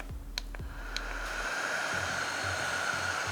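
A portable circulator-type fan blows air right at the microphone, a steady, close, breathy whoosh with a faint motor whine and a few light clicks early on.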